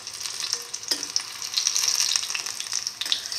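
Beef, tomato and fenugreek-leaf chickpea fritters frying in oil, a steady close crackle and sizzle with brief louder spits as they are turned, no talk.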